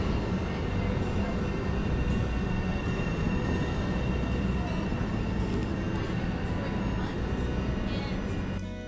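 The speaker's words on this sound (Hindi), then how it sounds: "रोम्स की या यूरोप की ट्रेनें देखी, डबल डेकर ट्रेनें जहाँ के ऊपर और नीचे दोनों बैठ सकते हैं" Double-decker trains run at a railway station in Rome, Italy, making a loud continuous rumble and roar of wheels and carriages that keeps steady throughout and fades slightly at the very end.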